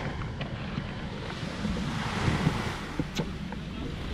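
Sea waves wash steadily onto the beach at Kuala Sungai Muda in a continuous broad roar of surf, mixed with gusty wind buffeting the microphone and a few faint knocks.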